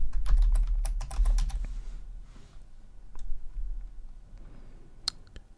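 Quick bursts of clicky typing on a computer keyboard, a rapid flurry of keystrokes at first, then scattered single taps, close and fairly quiet with no speech.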